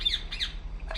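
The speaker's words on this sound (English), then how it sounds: "What the hell's up with that bird?" A bird in the video game Republique Remastered gives three sharp, high squawks in quick succession, close and fairly loud over a faint low hum.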